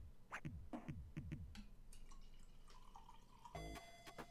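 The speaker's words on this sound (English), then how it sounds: "Pouring more coffee." Coffee is poured into a cup in a few quick gurgling splashes and drips, followed by a thin steady trickle and a brief clink, close and quiet.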